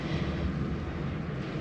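Helicopters passing overhead near Laggan Dam in the Scottish Highlands, a steady low rotor and engine drone that stays fairly faint and continuous, with no talk.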